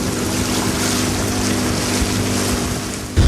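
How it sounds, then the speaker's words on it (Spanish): A small boat crosses a flooded river where a road used to be, with steady engine drone and water wash heard close and fairly loud throughout, plus a brief louder rumble near the end. "En una pequeña embarcación cruzamos lo que hasta hace 20 días era el pedazo de una vía"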